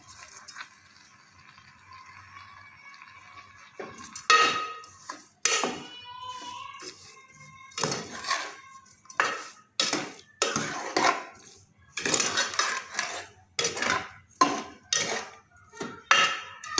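Mango jam with sugar being stirred in a pot, a spoon scraping and knocking against the metal in a steady run of clinks and scrapes. The strokes come close and clear and grow busier after a quieter start.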